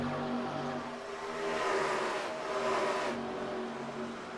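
Race cars roar around a dirt track in a Saturday night event, engines droning steadily with a swell as a car nears and passes, no talk over it.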